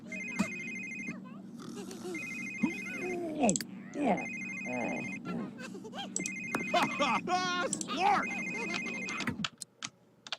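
A phone rings repeatedly in The Sims 3, a bright electronic trill recurring in regular bursts while a player talks throughout and in-game chatter and effects mix underneath.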